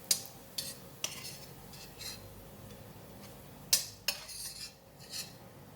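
Metal utensils clink and scrape against a pan while browned garlic is lifted out during a bok choy stir fry, with sharp clatters near the start and a louder pair of knocks later, quiet pan noise between.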